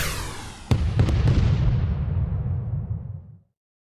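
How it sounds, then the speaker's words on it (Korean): A magic bullet fires in the game Trickcal Revive, a sharp burst followed by a booming, rumbling blast that rolls on for a few seconds before cutting off abruptly. "마력탄 발사!"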